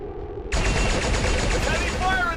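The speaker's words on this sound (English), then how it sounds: "Heavy fire in this zone." Sudden burst of heavy automatic gunfire in the XCOM 2 video game, loud and rapid, starting after a brief quiet lead-in and continuing densely to the end.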